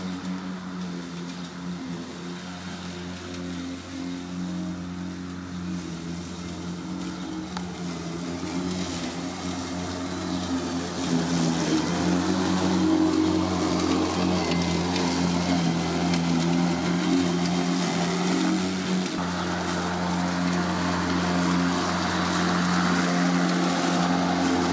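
A Mowrator S1 4WD remote-controlled cordless lawn mower runs steadily close by for the whole stretch, a continuous electric motor and blade whir that grows slightly louder partway through as it cuts grass, with no talking.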